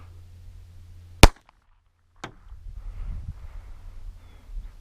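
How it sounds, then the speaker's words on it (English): A Raven Arms P-25 pistol fires a single sharp, loud shot into the dirt outdoors, a sudden crack with a quick fade, then a second fainter click-like snap before some low handling noise. "I think we're just going to shoot it into the dirt here and see what happens."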